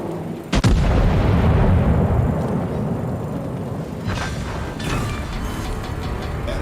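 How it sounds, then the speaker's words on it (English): A battleship in World of Warships fires a full broadside: a sharp, loud salvo of heavy guns near the start, followed by a long rumbling boom that slowly decays, with smaller bursts and impacts trailing later. "Let's get ready for a good broadside."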